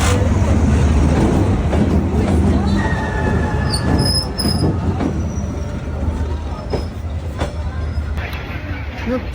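A train rolls along tracks through a street in Hanoi, a loud continuous rumble with faint squealing wheel tones, close and steady for the whole stretch.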